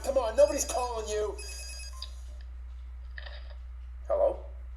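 In the Pepsiman video game, a telephone rings in two short, faint bursts a second apart. Speech is heard under and just before the ringing.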